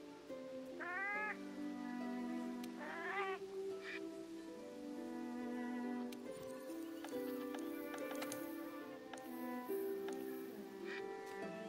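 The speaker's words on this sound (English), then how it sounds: "I got some cats playing some harp for me" Palico cats in Monster Hunter World play a soft harp melody, with plucked tones and rising arpeggio runs over a steady sustained backing, accompanied by faint cat-like meows and light percussive clops throughout.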